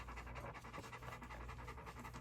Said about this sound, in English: These are 1 week old puppies, my friends